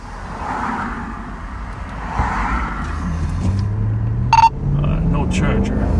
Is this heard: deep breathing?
no